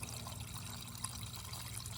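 Water runs steadily across a gold sluice mat while black sand is cleaned up, a faint, continuous rushing wash with a low hum beneath it.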